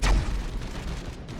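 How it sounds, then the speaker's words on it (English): An assault cannon fires in the Space Hulk video game, one heavy close burst that booms and quickly fades into a rumbling tail. "Brother Barakiel, your assault cannon has never done such nice noise"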